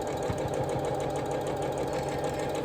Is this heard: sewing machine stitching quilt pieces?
yes